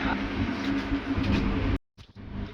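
Inside a Vande Bharat Express train running from Hazrat Nizamuddin toward Khajuraho, a steady low rumble and rattle of the moving carriage that cuts out abruptly near the end, then resumes more faintly.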